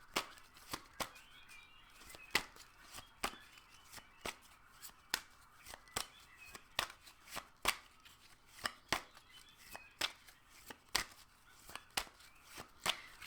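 Tarot cards shuffled for a card reading, a long run of crisp, close riffling snaps and flicks in an uneven rhythm, with no talking.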